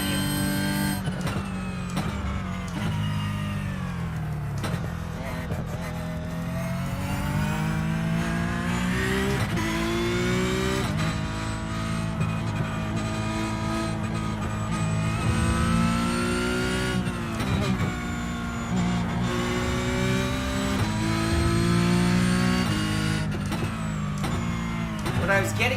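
Race car engine in a sim racing game runs continuously for the whole stretch, revving up and down with steady harmonic drone, while someone talks over it intermittently.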